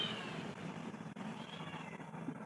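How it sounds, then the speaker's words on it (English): A cat meows faintly in the background of a call participant's room, a soft, brief, muffled cry buried in steady low room noise, with no speech. "I'm getting some cat voice somewhere."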